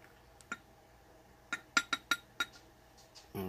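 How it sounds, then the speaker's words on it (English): A spoon stirring food in a glass container gives a quick run of bright clinks, a lone tap followed by five close ringing knocks in a burst, then a louder scrape at the end, near and with no talk. "Give that a good stir."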